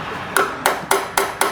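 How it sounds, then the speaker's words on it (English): A pair of pliers beats a stuck part off the thermostat housing of a Chevrolet Blazer engine. Five sharp metallic whacks land at a steady pace, loud and close, each ringing briefly. "beat this thing off here with a pair of pliers"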